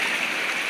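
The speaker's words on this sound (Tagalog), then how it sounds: "Ito ang ilog dito, mga ka-Jebels." A clear mountain river flows steadily, giving an even, close rushing hiss with no breaks or voices.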